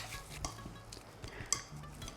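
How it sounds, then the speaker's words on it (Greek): Hands working a bowl of minced meat filling for Greek stuffed zucchini, giving soft, quiet, irregular squelches and light knocks against the bowl, with one sharper clink partway through. "Ανακατεύω και με το χέρι καλά, να πάνε όλα τα υλικά να απλωθούν σωστά και ομοιόμορφα."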